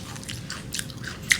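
A crunchy snack is bitten and chewed up close, a few short crisp crunches ending in a sharper bite, with no talking.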